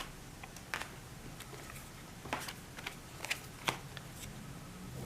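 Playing cards being drawn and placed during a solo tabletop card game, soft scattered slides and taps, close and quiet against a hissy room background.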